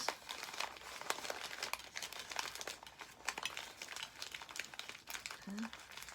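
Paper crinkling and rustling close up as a sheet is folded for a job binding, a steady stream of crisp crackles while a voice talks quietly over it.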